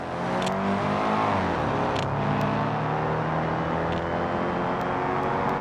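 A car engine in the BeamNG driving game revving and accelerating, a loud continuous drone with rising and falling pitch, close and steady throughout with no talk.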